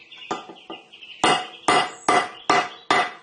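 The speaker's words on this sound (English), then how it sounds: "I'm just going to see if I can tap it round this way" A metal saddle part on a Harrison M300 lathe is struck with a hammer in a series of sharp ringing taps, a few light ones then several louder, evenly spaced blows close by.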